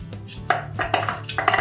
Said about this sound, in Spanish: Y ahora vamos a picar finamente las verduras.